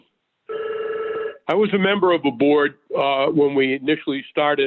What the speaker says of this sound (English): I'm sorry for my phone ringing.